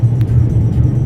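Steady low engine and tyre rumble from inside a Jeep driving along a snowy road, a continuous loud drone without speech.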